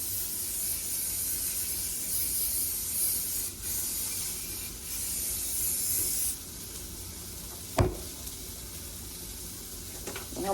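Eggs and sausage sizzle in a frying pan, a loud continuous hiss that briefly dips, then drops to a quieter sizzle after a few seconds, with a sharp clatter near the end.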